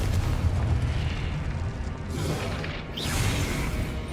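Confringo blasting spells from a wizard's wand in Hogwarts Legacy: a sustained rumbling explosive roar with a sharper burst near the end, loud and continuous, no voices over it.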